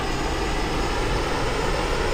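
Steady, loud roar of a Messerschmitt Me 262 A-1a jet engine at throttle in a flight video game, a dense continuous whine and rush holding level throughout with no talk.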